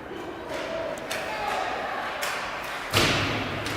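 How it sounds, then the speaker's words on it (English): A hockey puck slams into the rink boards during a youth hockey game, a sharp loud bang near the end after a few softer thuds and taps amid arena ambience. "Ooh, that one bangs right up off the boards."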